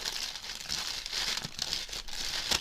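A plastic bag crinkles and rustles steadily during unpacking, with irregular crackly bursts and a few sharper crackles near the end, close up and alone.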